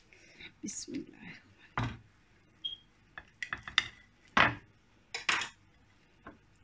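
A knife cuts through a homemade rolled crepe on a plate in a kitchen, making a handful of close, crisp scraping clicks spaced irregularly with quiet pauses between them.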